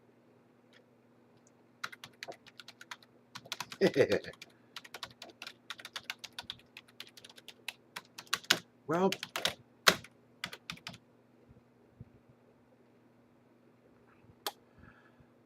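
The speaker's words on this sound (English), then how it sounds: "Press keys." Keys on a Commodore computer keyboard are pressed in scattered clusters of sharp clicks with pauses between, close and fairly quiet, as a man mutters briefly under them.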